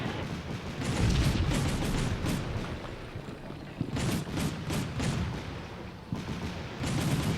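Gunfire from a Bradley fighting vehicle during a military training exercise, a dense burst of shots that goes on for a while, a pause, then further loud bursts with some repeated bangs.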